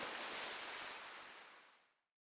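A body splashing into water in the video game Birushana: Rising Flower of Genpei, a single loud, broad watery whoosh that rushes out at once and fades away over about two seconds.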